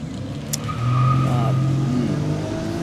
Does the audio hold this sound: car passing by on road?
yes